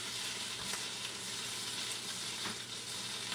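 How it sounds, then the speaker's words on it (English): A kettle of water keeps boiling on the stove while cornbread bakes, giving a steady, dense hiss and bubbling rush at close range with faint knocks from the lid, with no talking. "This kettle will keep it hot for a good long time. Look how it's boiling still yet."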